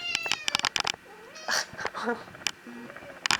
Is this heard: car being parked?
no